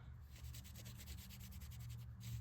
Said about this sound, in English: I'm gonna take a baby wipe, wrap it around a finger, dip it into the paint, and then I'm gonna rub that paint onto the pieces